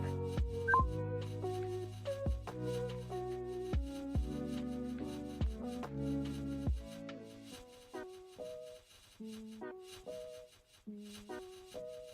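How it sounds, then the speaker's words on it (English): An incoming phone call rings as a melodic electronic ringtone, a sequence of clear stepped notes that repeats and fades slightly toward the end, with no talking over it. "I'm just getting a phone call here, so I'm just going to take that"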